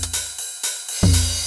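TR-909 drum machine running a sequence: evenly spaced hits with bright, hissy tops and a heavier low kick thumping in near the end, close and clear with no voices.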